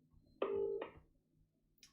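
A phone dialing a call, heard faintly through the handset set beside a computer: a single steady tone of about half a second, followed by a softer short tone and low background hum.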